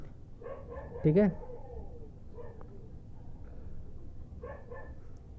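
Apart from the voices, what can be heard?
dogs barking nearby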